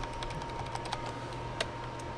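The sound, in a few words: holding space bar, clicking and dragging computer mouse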